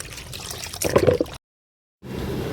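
Fungicide powder stirred into water, brief sloshing and splashing for about a second, then a sudden silence before quieter liquid sounds resume.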